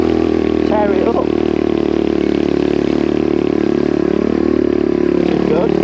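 A small pit bike engine drones loudly and steadily while riding on back tracks, a constant close buzz with wind rush and brief clattering, with a rider's voice faintly audible at times.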